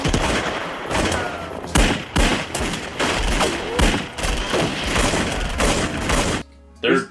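Gunshots in a movie scene, with a revolver among the weapons: loud, sharp shots fire in a rapid series with heavy booming hits and brief gaps, ending in a short pause and one last blast, with voices talking over them.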